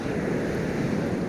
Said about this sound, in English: You can see there how fast the river's flowing.